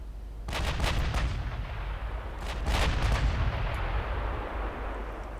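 Naval guns firing armor-piercing shells at battleships in the game Ultimate Admiral Dreadnoughts, two heavy booming salvos with a rolling rumble that sustains between them, loud and without talk.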